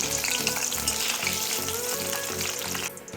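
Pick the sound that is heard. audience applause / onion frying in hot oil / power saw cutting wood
onion frying in hot oil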